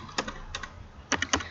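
Typing on a computer keyboard, with a few separate clusters of quick clicky keystrokes, soft and close, over a low steady background hum and no talking.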